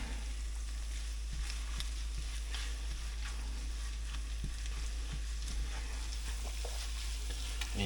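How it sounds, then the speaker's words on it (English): Eggs scrambling with sausage and melting cheese in a hot pan on a keto cooking day, a steady soft sizzle broken by repeated scraping and stirring knocks from a utensil, with no talking. "Now we just keep on scrambling and wait for this cheese to feel the heat and start to melt"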